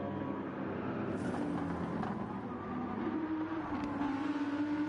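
GT3 race cars from BMW, Audi and Mercedes in the Gran Turismo 7 video game, engines droning steadily and rising in pitch as they accelerate in a close pack, moderately loud and with no talking.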